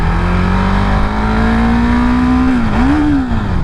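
A 2017 KTM 690 Duke single-cylinder motorcycle engine revving loudly and close on the throttle, a steady drone that rises, dips briefly and climbs again, with no talk.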